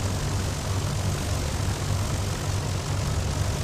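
An aircraft engine in the X-Plane 11 flight simulator idles before taxi while the oil warms, a steady droning hum with a strong low throb and even hiss, unchanging and uninterrupted by voices.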